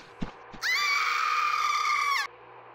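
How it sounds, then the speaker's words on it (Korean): A loud, sustained scream rings out for about a second and a half, echoing inside a hut as a horror-story sound effect, preceded by a couple of faint knocks, with no talk. "하는 A의 비명이 오두막 안에서 울려 퍼졌어"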